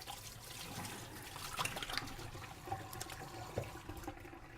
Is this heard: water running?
yes